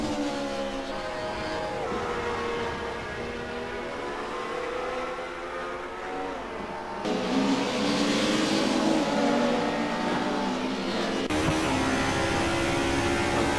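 Race cars at Vallelunga in Assetto Corsa scream through the gears, a loud rising and falling engine whine with distinct shifts and a second car joining partway, close and continuous without talk.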